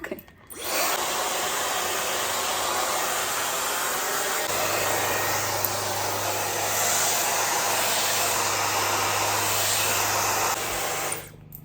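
A hair dryer fitted with a diffuser blows steadily for about eleven seconds while drying wavy curly hair, a loud close constant roar with a slight shift in tone partway through, no voices.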